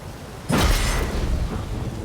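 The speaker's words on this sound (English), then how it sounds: "A storm, damn it." A thunderstorm in The Witcher 3 rolls in with a sudden loud crack and a deep rumbling boom. Broadband rain-like noise continues steadily behind it.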